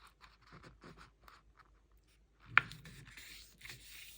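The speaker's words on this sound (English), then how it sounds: "So all you're going to do is just fold your page in half." A sheet of paper folded in half for a handmade junk-journal tag book, heard as a sharp crisp crease snap followed by soft rustling and rubbing of the page, close and fairly quiet after light handling noises.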